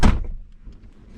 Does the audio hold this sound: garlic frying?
no